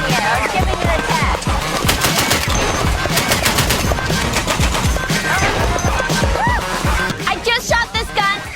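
A machine gun fires purple-tipped tracer rounds in long rapid bursts, loud and close, with dense repeated cracks and ringing metallic casings; the bursts break into scattered single shots near the end.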